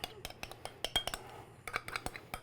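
A utensil mixes herbs, black pepper and bay leaf in a dish, giving a run of quick, close clinks and scrapes against the bowl in an uneven rhythm, with faint talk in the background.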